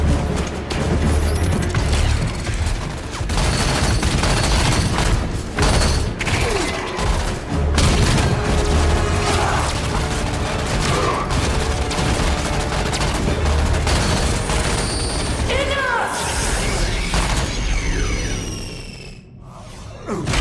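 A Halo video game battle erupts in dense, loud gunfire with booming blasts and whooshing projectiles, a continuous barrage that barely lets up and fades slightly near the end.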